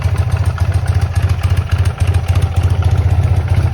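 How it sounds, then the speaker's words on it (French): A BMW R80 R boxer-twin motorcycle engine runs steadily just after starting, a loud close low throb with a fast even pulse and a brief dip midway, no voices. "donc maintenant elle démarre."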